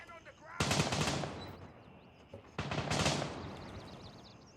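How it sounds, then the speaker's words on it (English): Gunfire in the video game Gray Zone Warfare: two loud automatic bursts, each a quick rapid string of shots fading into a ringing echo, separated by a couple of seconds of quieter ambience. "Where'd those other shots come from?"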